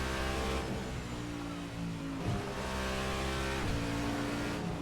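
Race car engine in the Assetto Corsa driving game, RSS Supreme 2025 car, droning steadily at high revs with brief dips around gear changes. The sound stays close and continuous, with no voices.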